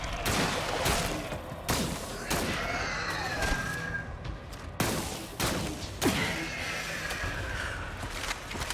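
Repeated weapon fire in the third-person shooter Scars Above: sharp blasts at irregular intervals, about a dozen shots loud and close, with whooshing energy effects between them.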